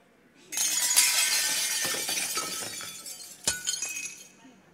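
Glass breaks with a loud shattering burst and a long spray of tinkling fragments, followed by a second sharp crash and more fading clinks, with no talk.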